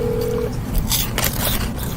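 A phone call being placed: a short steady tone at the start, then bursts of dialing tones over a loud, noisy background line, all close and harsh.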